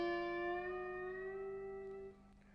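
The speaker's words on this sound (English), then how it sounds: "What I'm going to do after that is place the bottleneck just behind the 10th fret and slide" A bottleneck slide guitar note glides slowly up from the 10th to the 12th fret, sustaining clearly and alone before fading quickly near the end.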